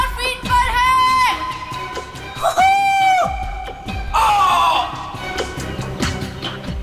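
A man screams during a skydive, heard through a played-back recording with a constant roar of wind behind him; several long, strained cries rise and fall over about seven seconds.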